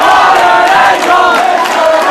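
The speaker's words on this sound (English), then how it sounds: "you can already hear a loud, crazed crowd about to be treated to a great matchup" A loud, excited crowd at an independent pro wrestling show roars and chants continuously before a match, a dense wall of voices with swelling shouts throughout.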